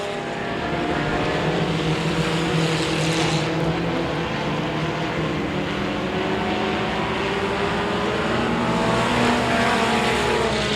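Race cars battle for the lead on an oval speedway track, their engines roaring together in a steady, sustained drone at close range with no break.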